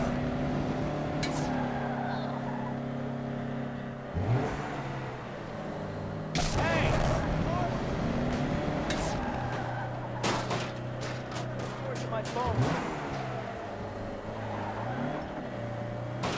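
A heavy truck carrying a big tank drifts in Saints Row (2022), its engine droning and sliding in pitch while tires skid and bumps clatter, under someone talking.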